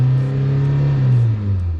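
A Peugeot 106 rally car with a blown head gasket and leaking rocker cover gasket revs loudly and steadily up close, its engine note sustained with slight pitch changes, alone without voices.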